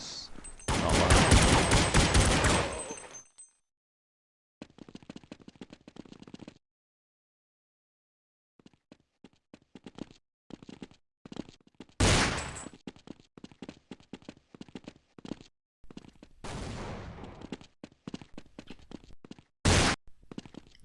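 Team-killing gunfire in Counter-Strike on de_dust2 during a DreamHack 2011 match: a loud, dense volley opens, then a silent gap gives way to scattered rapid bursts and sharp single shots until the end.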